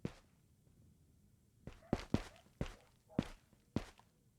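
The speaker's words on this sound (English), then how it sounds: "I heard footsteps." Footsteps in the Arena Breakout shooter, six distinct thuds in an irregular walking rhythm after a quiet opening, fairly close and crisp against a hushed background.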